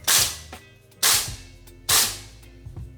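A WM HK416 D gas blowback gel blaster fires three sharp, loud reports about a second apart. Each crack snaps sharply and fades, and a smaller mechanical click follows at the end.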